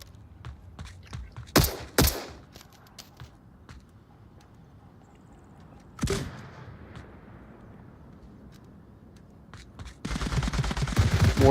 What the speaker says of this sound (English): More shots going out.